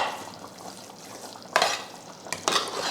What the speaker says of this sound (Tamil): கொஞ்சம் இப்படி கரண்டியில் இப்படி மசிச்சுக்கிட்டிங்கன்னா நல்லா குழஞ்சி வந்துடும் அரிசியும் பருப்பும்